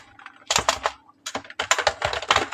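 Fingers tap on a computer keyboard in quick bursts of clicky keystrokes, with a short pause between flurries, close and crisp.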